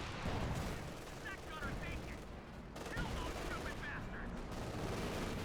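Panzerschreck rockets and other weapons fire in the Company of Heroes 2 battle, a dense, fairly faint barrage of sharp bangs and crackling shots layered over steady background combat noise.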